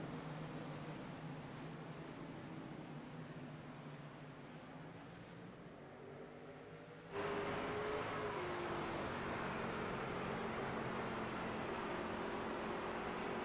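A field of race cars in the iRacing sim roars around Lucas Oil Raceway at Indianapolis as a steady, droning engine wash that swells abruptly louder partway through and holds there, with no talk.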